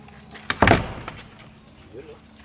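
A solid door on a new small store is opened, giving a short cluster of knocks and a brief rattling clunk near the mic, loud and close, with faint speech and room noise before and after.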